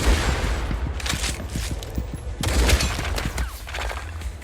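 Gunfire from the shooter game Pixel Gun 2 as a sniper headshot lands: a dense run of sharp cracks and booms with a heavier burst midway, loud and close, with no talk over it.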